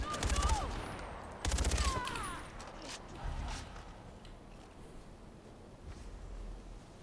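Enemy gunfire in Far Cry 4 erupts in two dense, loud bursts of rapid shots early on, then fades into scattered quieter pops and low rumbles over background game noise.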